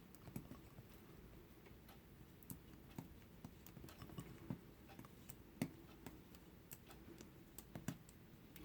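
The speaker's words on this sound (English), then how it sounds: "You can almost hear the sound of me breaking the seam, a little snap sound." Faint, soft snaps as a fingernail breaks the seams of a bowl, a loose string of small ticks spread across a quiet background.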